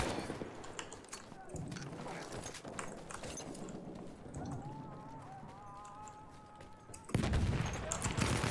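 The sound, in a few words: MP18 trench gun hip firing in video game Battlefield 1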